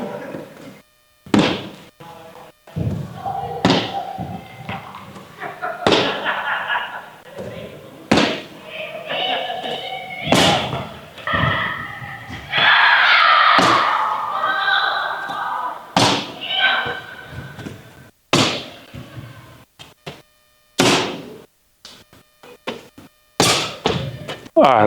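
Feet land on the ground between hurdles during sprint and jump drills, a series of sharp thuds at uneven intervals, mixed with stretches of talking and background noise.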